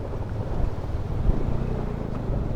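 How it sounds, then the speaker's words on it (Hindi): Motorcycle crossing a large stream on a snowy ride into Ladakh, with a steady low engine rumble and rushing, splashing water mixed with wind buffeting the microphone, continuous and close throughout. "इस राइड का आज का सबसे बड़ा वाटर क्रॉसिंग"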